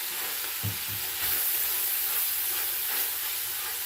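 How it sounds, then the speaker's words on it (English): Chili in a pot on the stove being stirred, with a steady sizzling hiss and a few soft scraping strokes near the start, close and fairly quiet, no voices. "I'm just going to give this a stir"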